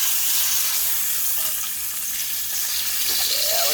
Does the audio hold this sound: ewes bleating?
no